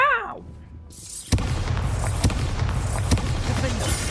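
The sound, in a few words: spell explosions in Hogwarts Legacy video game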